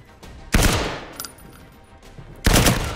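Gunfire from the PlayStation VR shooter Firewall Zero Hour sounds as two loud, sustained bursts of rapid automatic fire about two seconds apart, with a brief fainter shot and a thin electronic tone between them.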